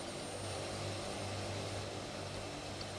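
Steady broadband roar of an airplane engine in Microsoft Flight Simulator 2024, a Hercules transport, droning continuously with a low hum underneath, loud and unbroken with no talk.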